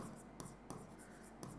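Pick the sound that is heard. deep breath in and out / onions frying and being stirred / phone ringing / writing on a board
writing on a board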